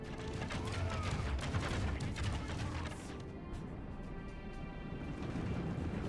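A crossbow and musket volley erupts in a Total War Third Age battle, a dense crackling fusillade of overlapping shots amid battle din, fairly quiet, easing off midway then continuing.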